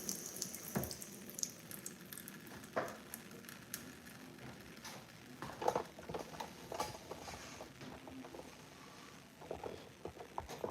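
Water runs steadily from a tap into a sink, a continuous splashing wash with brief clatters and knocks at moments, fairly close and with no voices.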